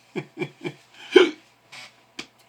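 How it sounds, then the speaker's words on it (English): Three quick hiccups in a row, then a louder gasping one and a couple more spaced out, close and fairly quiet with nothing else around. "I've got the hiccup"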